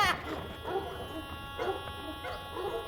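Dogs barking in a yard in a comedy film, several short sharp barks repeating at moderate distance over a steady background hum.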